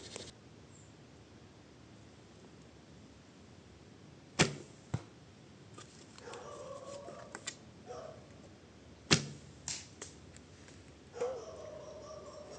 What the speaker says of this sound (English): Sounds like a broken arrow to me.